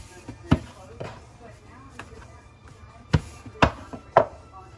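Homemade flour tortilla dough, dusted with flour on both sides, is flattened, flipped and rolled, giving several sharp slaps and thumps against a low background hum, with a soft faint knock in between.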